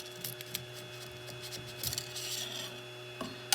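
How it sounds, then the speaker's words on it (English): A scraper rasps along a 3D printer bed, prying a finished print loose, in short close scratching strokes with a few sharper clicks. "all we're going to do is we're going to get underneath of the print itself as it's adhered to the bed"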